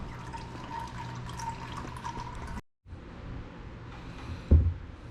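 Engine oil drains out of a car in a steady close trickle and splash, broken by a brief silent gap, followed by a louder bump or splash near the end.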